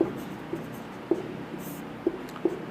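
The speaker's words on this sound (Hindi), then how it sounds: "अपन यहाँ पे एक फॉर्मूला लिखते हैं" Marker or chalk strokes on a board while a math formula is written, a handful of short scratchy taps and strokes spaced irregularly, fairly faint in a quiet room with no talking.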